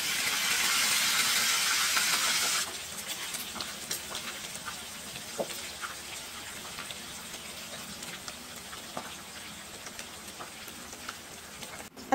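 Pork steak (liempo) fries in oil in a pan: a loud, bright hiss for the first few seconds, then a quieter, steady sizzle dotted with small pops and crackles.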